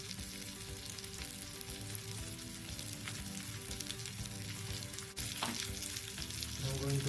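Silver biddy fish in a semolina rawa coating fry Malvani-Mangalore style in an oiled pan with a loud, continuous close-up sizzle that swells slightly toward the end, with no talking.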